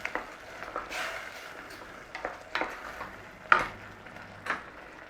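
A spoon stirs cornstarch slurry into a sweet and sour sauce in a hot pan, with a low steady sizzle under several soft, irregular scraping strokes close by.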